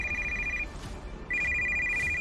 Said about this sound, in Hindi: 2 रिंग के बाद ज्योति के पापा ने फोन उठाया